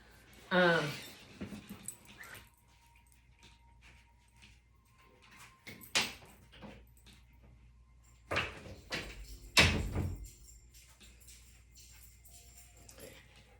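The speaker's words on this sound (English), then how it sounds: "I'm just going to close the door, you guys." A door swung shut indoors with a few sharp knocks and a thud, close by, separated by quiet stretches with a little handling noise.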